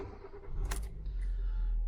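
A car engine starting on the push button: a short electric starter whir and crank, then the engine catches and settles into a steady low idle, close by.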